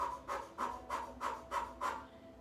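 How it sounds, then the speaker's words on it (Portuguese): Rapid Bhastrika breathing through the mouth, six quick forceful breaths in an even rhythm, close and fairly quiet with no talking. "existe aquela respiração que eles chamam de garrafinha, que é um Bhastrika feito com a boca"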